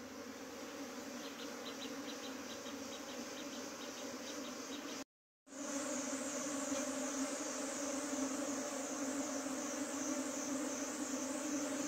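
A swarm of honey bees being hunted and hived buzzes steadily and densely from up close, a continuous drone broken only by a half-second gap near the middle, with no talking.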